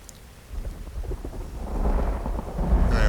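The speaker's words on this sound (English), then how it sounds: "That's loud thunder." Thunder in the video game Uru, a deep rumbling roll that swells and grows louder over a few seconds with a rainy wash behind it, and no speech over it.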